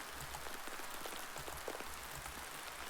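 Rain falling steadily on a surface in an audio story, a soft continuous patter of scattered drops at a fairly quiet level, with no voices present.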